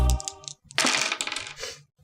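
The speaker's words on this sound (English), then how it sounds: "The DM rolls dice" Dice clattering across a tabletop during a Dungeons & Dragons game, a short burst of hard rattling clicks and taps that settle after about two seconds, close and fairly quiet.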